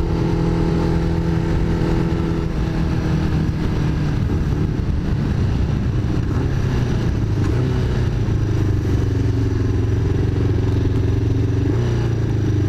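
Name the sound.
custom motorcycle engine revving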